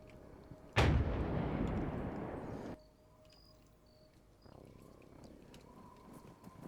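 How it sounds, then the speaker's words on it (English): An artillery tank firing in a military survival video game: one loud close blast with a long rumbling decay lasting about two seconds, then quieter ambience with crickets and faint distant shots. "These guys, I think they hear the artillery tank going."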